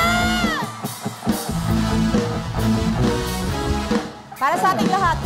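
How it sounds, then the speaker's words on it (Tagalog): A crowd at a town fiesta concert in Rosales, Pangasinan, shouts and whoops loudly over live band music, with a lead voice calling out through the steady din. "sumigaw lahat ng mga broken-hearted ngayong gabi"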